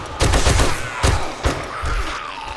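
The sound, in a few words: machine gun firing in the video game 7 Days To Die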